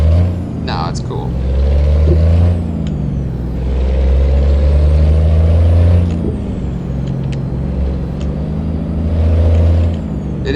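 A fully modded Peterbilt 380 truck in a video game, its engine droning low and heavy as it accelerates, with rising and falling revs and brief hissy transients on top, steady and close throughout.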